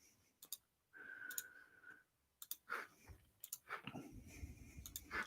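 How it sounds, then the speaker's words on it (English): Mouse clicks from someone working a computer during a live online quiz, coming as scattered sharp ticks in short bursts with brief pauses between them and no voice. "I'm furiously clicking around everywhere"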